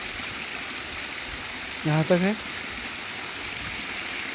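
A natural waterfall in Uttarakhand, with water pouring over and around large rocks. It makes a steady, even rushing hiss throughout, and someone speaks briefly midway over it.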